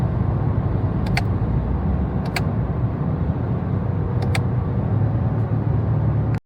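Toyota GR Corolla driving with a steady engine and road drone throughout, broken by a few brief clicks as the transmission shifts gears quickly, then cut off abruptly at the end.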